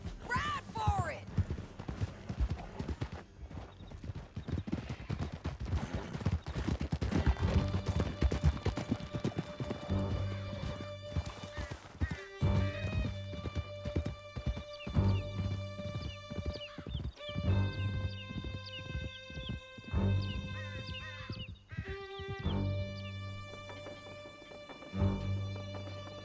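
Horses galloping under riders in Red Dead Redemption 2, a steady rapid clip-clop of hooves with occasional whinnies, running under game music and scattered voices.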